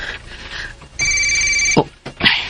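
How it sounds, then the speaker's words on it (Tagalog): Telephone ringing with an incoming call in an apartment, a single sustained electronic ring burst of about a second between bits of dramatic speech and rustling. "nagana nagtawag sa akong phone eh"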